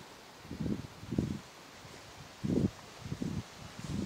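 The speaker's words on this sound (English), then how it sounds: "I'm aware there's wind" Gusts of wind buffet the microphone outdoors beside a weir at the old Peel Mill site in Burrs Country Park, coming as about five rough, low rumbling bursts separated by calmer moments.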